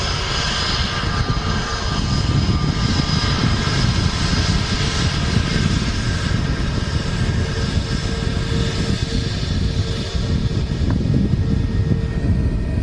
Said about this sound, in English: I can see an aircraft on short final. Maybe the Jet 2 A330.